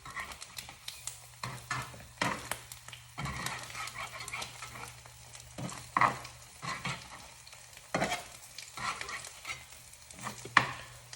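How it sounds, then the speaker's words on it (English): An egg fries in a pan with a steady soft sizzle, broken by repeated scraping and stirring knocks from a utensil, close and moderately quiet. "You're gonna let your egg cook a little bit more through so the yolk is not runny"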